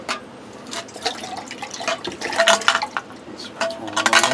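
Water splashing and sloshing while a canteen is rinsed out, in uneven bursts of pouring and dripping that swell toward the end, close and fairly quiet.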